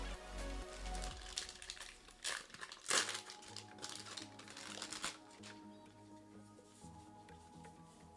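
Shadowverse Evolve trading cards are shuffled by hand in quiet riffling, crinkling bursts, with a sharper rustle near the middle and softer handling afterward.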